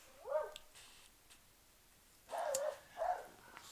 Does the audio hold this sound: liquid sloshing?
no